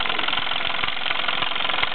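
A 1948 Mamod SE1 steam engine with brass frame and regulator driving cast iron workshop tools, including a grinder, through belts: a steady mechanical whir with regular rhythmic knocking beats, close and continuous.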